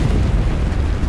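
A grenade explosion in the Enlisted video game, heard as a loud, dense, low roaring burst that fills the whole short moment, with no voices.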